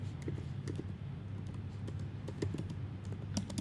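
Fingers type steadily on a computer keyboard, the key clicks close and fairly quiet, coming in quick irregular bursts with no talk.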